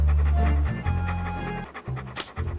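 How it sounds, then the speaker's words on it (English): A cartoon dog pants in rapid, steady huffs in the pirate adventure game Monkey Island 2: LeChuck's Revenge, loud and close over a backdrop of game music. "What a ferocious looking dog."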